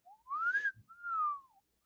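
A lone, quiet slide-whistle-like tone glides smoothly up, then after a short break slides back down, as in the SpongeBob gag.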